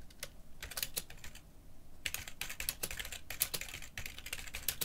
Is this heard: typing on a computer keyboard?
yes